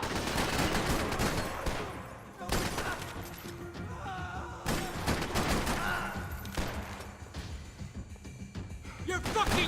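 Rapid bursts of video game gunfire crackle through a shooter match, dense volleys broken by brief lulls and sharp single cracks, loud and close.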